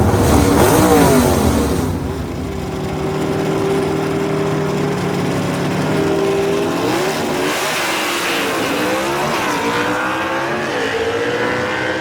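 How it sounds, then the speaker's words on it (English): Drag race cars at a S.E.G.A. event in Knoxville, Tennessee accelerate hard down the strip, with a loud burst at launch easing into a steady, sustained engine roar as they pull away, rising and falling through shifts. "Good drag race right there"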